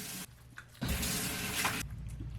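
Tap water splashes into a sink during a morning face wash, a soft trickle that swells into a loud, steady rush for about a second before easing back to a quieter flow.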